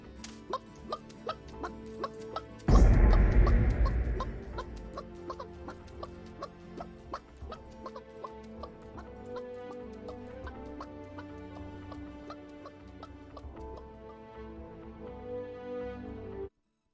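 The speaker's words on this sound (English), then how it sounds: "I hear a chicken, yes." Chicken clucks heard during a game's pre-match lobby, repeated short clucks against a steady, busy musical background with a louder burst near the start.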